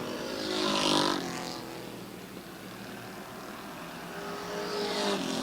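Race cars lap a short speedway track, engines swelling loudly as they pass close by, fading into a steady mid-distance drone, then roaring up again with another pass.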